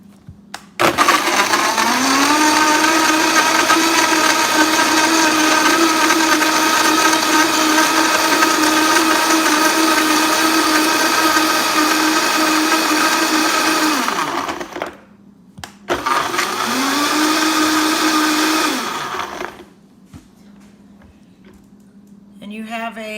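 A blender whirs loudly and close as it purées a peanut butter chocolate smoothie with cocoa, sweetener and almond milk, running in one long burst, pausing briefly, then a shorter second burst before stopping.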